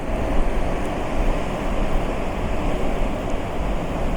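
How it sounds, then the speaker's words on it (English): Atlantic ocean surf washing onto a stony, rocky shore with wind blowing, a steady broad rushing roar that stays loud and even throughout. "The surf is just reaching the shore, touching the stones and the rocks."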